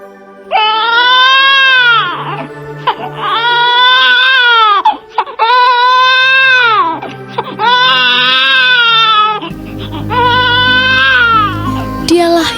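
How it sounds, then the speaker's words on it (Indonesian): A newborn baby wails in five long, loud cries with brief breaths between them, close and alone, at the birth of Jesus in a Christmas nativity scene. "terdengarlah suara tangis seorang bayi lahir"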